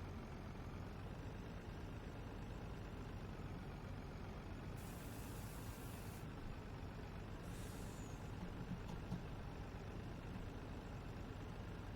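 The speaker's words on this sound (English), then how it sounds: "So as we are driving, I will slowly have the dump bed go up" Dump truck in Farming Simulator, a public works truck spreading sand at a park, giving a steady low engine drone with air-brake hiss bursts partway through; no talk.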